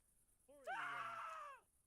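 A video game character in Ground of Aces lets out a single faint, drawn-out scream lasting about a second, alone against near silence.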